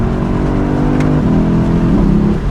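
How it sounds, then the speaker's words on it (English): A Lexus LC500 engine hums steadily at low revs, a deep droning note that steps audibly as the 10-speed automatic shifts partway through, loud and close from inside the car, with no talking. "The 10-speed automatic transmission is willing to shift, downshift, and upshift literally almost whenever you want"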